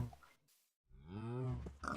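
A sheep in Minecraft gives a short wavering bleat after a brief pause, close and moderately loud, with another faint animal noise around it.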